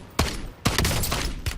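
A gun in a shooter video game fires in short bursts, giving three sharp, loud cracks with rapid rattling fire between them and no talking.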